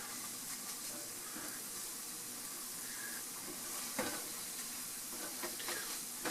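A scramble cooked with ground shito gets stirred in a pan with a silicone spatula, a soft continuous sizzle with faint scraping strokes, low in level and without talk.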